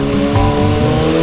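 A motorcycle accelerates hard while overtaking a car, its engine note loud and close with rising, shifting harmonic tones over a dense roar through the short burst.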